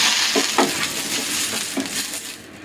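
Avakaya dosa batter sizzles and fries in an oiled pan with a steady crackling hiss and a few soft scraping stirs, close by and continuous, with no voices.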